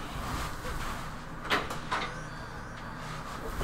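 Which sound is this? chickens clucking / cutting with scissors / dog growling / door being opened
door being opened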